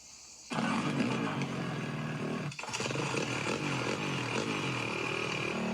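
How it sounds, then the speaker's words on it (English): An angle grinder roars up suddenly to a loud, steady, buzzing whine used to open a beer, dipping briefly midway then running on, close and without talk. "That's how you open a beer. With the grinder."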